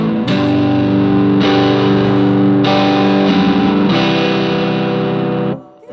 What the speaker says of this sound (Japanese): 3がやっぱ一番歪み感は強くて、ボリュームがちょっと落ちる感じになるのかな。